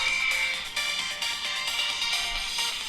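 A Vivo V30e phone plays a melody at maximum volume through its loudspeaker, bright and steady throughout, with no voice over it.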